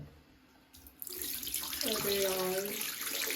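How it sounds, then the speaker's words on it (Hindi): Dirty water from a Eufy robot cleaner's waste tank pours into a sink, a loud, continuous gushing splash that starts abruptly and keeps running, with a brief exclamation from a voice at the start. "यूफी का जो डर्टी वाटर टैंक है वो पूरा फुल हो गया था, तो हम इसको खाली करने आए हैं।"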